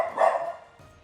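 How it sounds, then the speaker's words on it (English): Cupcake the dog lets out a single loud, close bark at a man working on the lawn, followed by quieter rustling. "It's not nice to bark at the guy."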